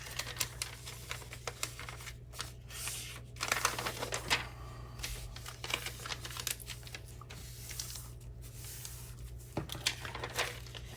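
Paper folded and creased by hand into a small junk journal pocket, giving a string of crisp, close rustles and light taps over a steady low hum, with no talking.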